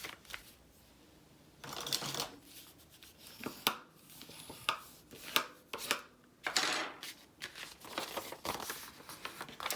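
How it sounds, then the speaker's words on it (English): Paper for a decorated paper bag is folded back and forth to set a crease, making close, crisp crinkles and rustling swipes in irregular bursts, quiet overall with no talking. "And then I'm just folding it both ways so that it gets a good crease in it."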